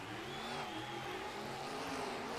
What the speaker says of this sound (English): Both trucks on the line, ready to go.